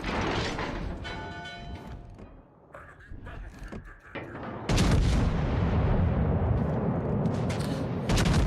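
Heavy naval gunfire in a warship video game, with loud booming salvos aimed at destroyers: a burst of firing early on, then a sustained, dense roar of shots and blasts through the second half.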